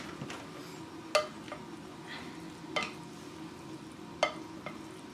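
Salted chicken and rice for arroz con pollo being mixed in a pot, with soft stirring scrapes over a low background hiss and three sharper clinks of the utensil against the pot, spaced about a second and a half apart.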